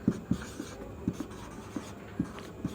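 Chalk or marker tapping and scratching on a classroom board, a series of sharp separate strokes at an uneven pace, close and clear with no talk.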